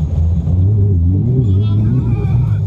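Deep rumbling engine of a Baja 1000 off-road race vehicle held at full throttle in Mexico, a loud, close, wavering low drone from inside the cabin, with a voice speaking over it.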